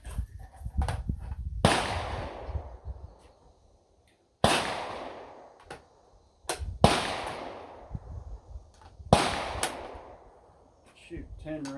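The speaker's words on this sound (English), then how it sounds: "I'm going to shoot some of this Hornady ammo and see how it runs now that the gun's pretty dirty" Four loud, sharp gunshots from a dirty 6.5 Creedmoor rifle firing Hornady factory ammunition, each crack followed by a long echoing decay outdoors, spaced a few seconds apart with smaller clicks and handling sounds between.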